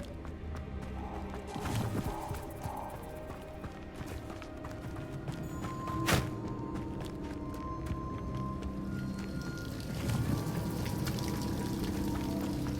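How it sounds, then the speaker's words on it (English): A waterfall in the Hogwarts Legacy video game gives a steady rush of falling water. Hoof-like clops, a sharp thump and soft game tones sit over it at moderate loudness. "The waterfall."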